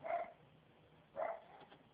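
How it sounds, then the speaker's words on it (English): A dog gives two short, muffled barks about a second apart, heard indoors at a moderate distance. "my dog's barking"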